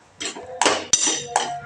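Pani puri ingredients stirred together in a bowl with a spoon, giving four clattering bursts of utensil scraping and clinking against the bowl, close and fairly loud with no talking.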